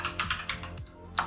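A password is typed on a computer keyboard as a quick run of about half a dozen close, crisp key clicks in an uneven rhythm, with no speech.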